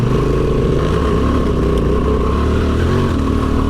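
Honda XL750 Transalp parallel-twin motorcycle engine on off-road terrain, a steady loud drone of engine noise held close and continuous throughout, with no talk over it.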